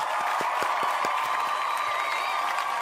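Applause from a small crowd, a steady wash of clapping with a few louder individual claps standing out near the start, moderately loud and continuous.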